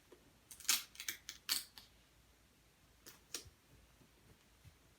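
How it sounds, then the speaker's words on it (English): Photo paper being cut with scissors along a ruler's edge, a run of crisp snipping bursts in the first two seconds, then a couple more near the three-second mark, close and fairly loud in a quiet room. "cut against the ruler's edge"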